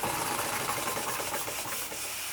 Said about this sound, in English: we got a bit of a steam leak from the safety valve